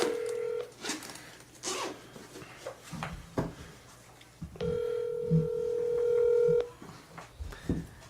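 Telephone keypad tones sound over a speakerphone, with several steady multi-tone beeps, including one long held tone, mixed with faint background rustle and brief low sounds.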